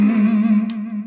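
An electric guitar through distortion and effects sustains a single bright, buzzing note for about a second in an A minor harmonic phrase.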